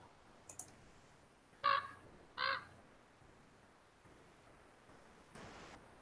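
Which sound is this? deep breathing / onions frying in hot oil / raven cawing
raven cawing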